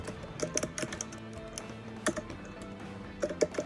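Computer keyboard typing Python code, a quick run of key clicks in irregular bursts with short pauses, close and fairly quiet, no voices.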